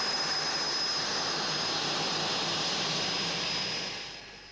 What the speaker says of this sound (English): As Jim taxis out